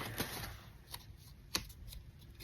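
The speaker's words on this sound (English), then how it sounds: "So I'm going to put them in envelopes" Papers being slid into envelopes, soft crisp rustles and shuffling with a few sharper paper slaps, quiet and close.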